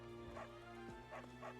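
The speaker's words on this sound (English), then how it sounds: "Puppy was barking at us" A puppy, one of a household's Shih Tzu, Husky or Dalmatian, yips and whimpers in a few short, faint bursts against a steady hum, with some speech nearby.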